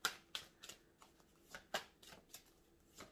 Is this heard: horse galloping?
no